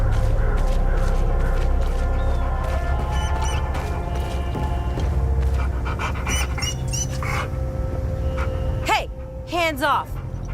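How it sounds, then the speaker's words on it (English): Within a video game, a dog pants and lets out thin, rising whimpers, close and fairly loud over a low rumbling ambient bed, with the whines strongest near the end. "I found the poor pup whimpering alone in the house"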